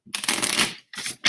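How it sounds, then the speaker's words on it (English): Tarot cards get riffle shuffled in two or three quick, crisp bursts of fluttering card edges, close and fairly loud, with short pauses between them. "Some people are like, oh my God, don't riffle shuffle your tarot cards."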